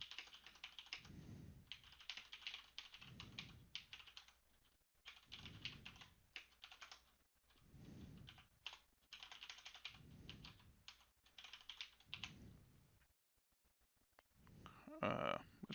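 Steady bursts of typing on a computer keyboard while code is entered, key clicks rattling in quick runs with short pauses between, close and moderately loud, ending in a few sharper clacks.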